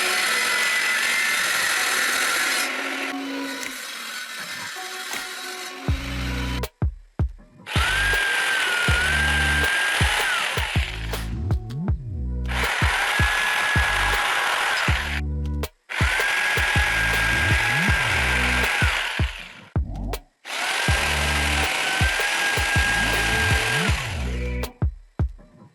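A table saw and a jigsaw cutting wood for an acoustic recording box: several long, loud bursts of whining motor and blade noise, each starting and stopping abruptly with short quiet gaps in between.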